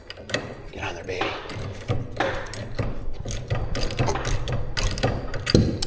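A ratchet clicking in repeated short bursts while tightening down a garage door torsion spring, close and fairly loud, with brief pauses between strokes and someone talking intermittently.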